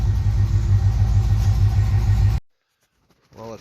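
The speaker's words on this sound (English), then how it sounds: "it's rattling, it's smoking, and it's running like shit" An old car engine, run again after more than ten years stored in a barn, runs rough with a loud, steady low rumble, then cuts out abruptly into silence before a brief voice.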